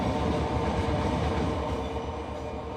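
A train rolls steadily through the Run 8 rail simulator, its heavy rumble and rhythmic wheel clatter loud and constant, without voices.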